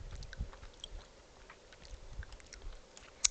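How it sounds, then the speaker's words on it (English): Someone chews food quietly close to the microphone, with soft irregular wet crunches and mouth sounds spread across the moment and one sharp click near the end. "sorry, I'm all chewing"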